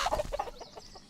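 A bird attacking the player in the video game A Township Tale, giving a quick run of close, clucking squawks that fade out within about a second.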